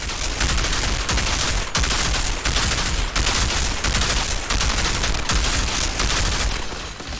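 Rapid gunfire blasts at a boss in the shooter game Outriders, in dense, repeated bursts with only brief gaps between them. The shots are loud and close, with no talking.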